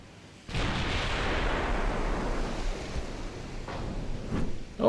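Naval gunfire in the warship game Ultimate Admiral Dreadnoughts: a heavy boom opens into a long rumbling roar, and two or three further distant thuds follow near the end.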